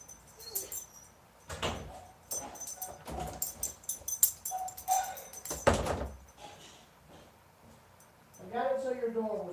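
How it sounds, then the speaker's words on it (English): A door shuts with a couple of broadband thuds, mid-distance, among scattered household knocks, with a dog whimpering and people talking around it. "I got it so your door was shut, Adrian."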